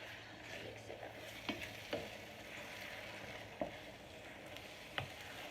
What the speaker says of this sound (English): Rice is cooking. Egg is cooking.